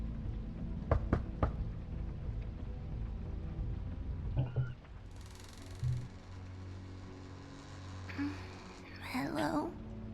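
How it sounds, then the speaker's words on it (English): Knocking on a door in a game sounds as a quick cluster of two or three sharp, close raps near the start, followed by quieter thuds, background ambience and a voice. "I'm gonna knock."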